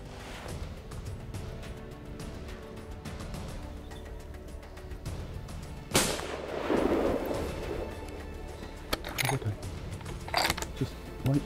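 A single rifle shot fired at a stag during a hunt in open country, a sharp loud crack partway through, preceded by faint rustling and followed by brief handling sounds.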